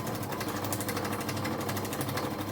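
Sewing machine chain-piecing a quilt block with a quarter-inch seam, a dense, steady mechanical whir and rapid needle rattle running continuously up close.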